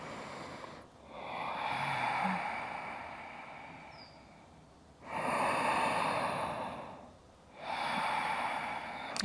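Three long, loud yoga breaths, slow audible inhales and exhales with a rushing, throaty texture, close up and evenly paced with short pauses between them.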